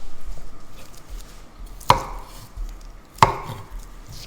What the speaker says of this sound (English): I am just going to start working through slicing and filling more jars with